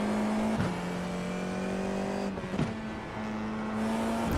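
A race car in a racing video game held at full throttle, its engine a sustained steady drone with a brief gear-change dip midway before pulling on again, close and continuous.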